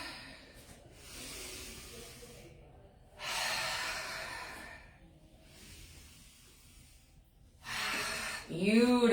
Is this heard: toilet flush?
no